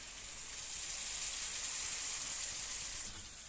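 Shrimp hitting a hot pan of spices, a bright, steady hiss of sizzling close up that eases slightly near the end, no speech.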